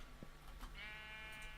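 A sheep bleats in the Minecraft video game, a single drawn-out bleat after a couple of faint clicks, quiet and somewhat distant with no talking.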